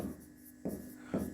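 Chalk or marker strokes on a classroom board during a math lesson: three short scratchy strokes at a steady pace, fairly faint.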